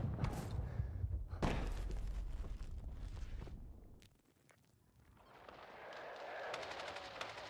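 Rapid bursts of AK 4D assault rifle fire in the Battlefield 6 video game, dense and continuous at first, then fading before another stretch of quick rattling shots returns.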